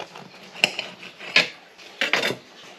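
A knife saws through a fat slice from the middle of a sourdough loaf, giving three separate crunchy crackling bursts of crust with short quiet gaps between them, close and fairly loud with no talking.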